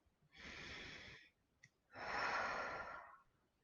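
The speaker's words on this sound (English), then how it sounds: "let's just take a nice deep breath in" Two long, slow breaths, the first drawn for about a second and the second deeper and longer, sound close and clear against quiet, with no talk.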